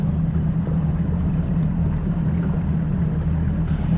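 Powerboat engine idling on the water at a 5 knot speed limit, a steady low rumbling drone with even hum throughout, close and constant, no voices.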